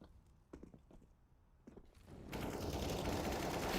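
An AK rifle fires in a Counter-Strike esports match, first as a few scattered shots and then as a dense, sustained burst of automatic fire that swells loud at the end.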